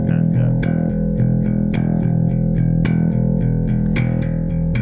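Bass guitar open E string picked in steady straight sixteenth-note downstrokes, a loud, even, continuous run of sharp attacks with no talking.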